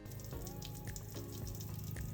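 Water running steadily from the taps of an RV during de-winterizing, a faint continuous splashing flow with a few soft clunks, heard alone without talk.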